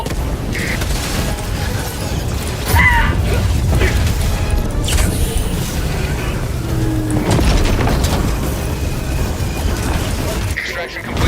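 Video game explosions and booming blasts with mechanical clatter and crashing debris, loud and dense, layered under game voices speaking throughout.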